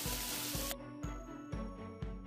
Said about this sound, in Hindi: हमें इसका अच्छे से तड़का लगाना है